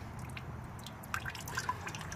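Coolant dripping from the water pump of a Chevy Tracker/Suzuki Vitara, a handful of small distinct drops landing in the second half over a quiet low background hum.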